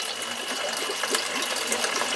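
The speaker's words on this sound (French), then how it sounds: "qu'on fait passer de l'eau dans le sable" Water pours steadily through sand, a continuous close gushing and fizzing rush at even volume with no talk.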